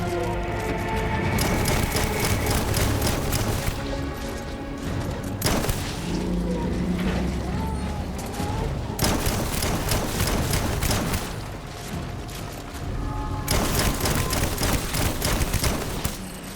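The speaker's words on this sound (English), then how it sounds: "Shotgun actually pretty efficient." Shotgun fire in Death Stranding on the beach: loud, repeated blasts in quick bursts, with dense stretches of rapid booming broken by short gaps, all close and forceful.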